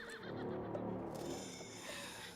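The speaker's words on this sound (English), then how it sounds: "The horse grew angry and summoned the other monsters." An angry horse neighs in Resident Evil Village: a strained, shaky whinny that rises and wavers, loud and close over a dense rumbling game soundscape.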